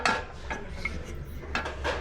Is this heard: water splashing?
no